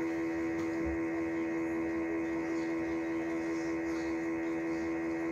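A sustained low bowed cello note, E played on the C string, rings steadily with rich harmonics, held alone without talk.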